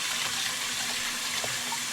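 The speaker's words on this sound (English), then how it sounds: "Now we're gonna put some cold water in here. I'm gonna just clean this, wash it." Cold tap water runs steadily over pork spare ribs being rinsed in a kitchen sink, a soft continuous splashing hiss with no talking.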